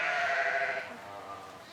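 A ewe bleats loudly and close by for under a second while being milked, its strained cry fading into quieter animal and background noise.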